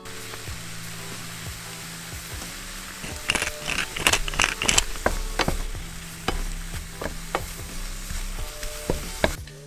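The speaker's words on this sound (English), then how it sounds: "I'm gonna throw them in the pan first with a little bit of black pepper and turmeric" Mushrooms sizzle steadily in a pan with black pepper and turmeric, a constant frying hiss broken by scraping and stirring clatter from a utensil, close and moderately loud.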